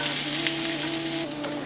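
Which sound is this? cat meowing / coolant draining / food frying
food frying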